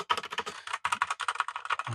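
Fast typing on an E-Yooso K620, a very lightweight mechanical keyboard, dense close clicky keystrokes in quick bursts with one brief pause.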